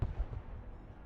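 Direct fire from units in the military video game Broken Arrow booms as a heavy low thump at the start, then fades into a rumbling decay, moderately loud, with no speech.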